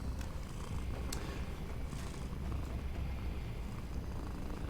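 Petra, an 11-year-old female cat, purrs steadily at close range as a soft, continuous low rumble with no other sounds around it.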